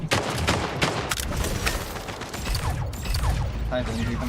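Rapid bursts of gunfire and weapon mechanisms in the arena shooter Splitgate, dense and loud with sharp repeated shots across the whole stretch.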